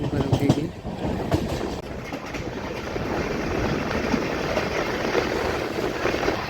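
Inside a general coach of the Patna Kota Express while it moves, a steady loud rumble and rattle of the rolling train fills the space, with a few brief clatters near the start.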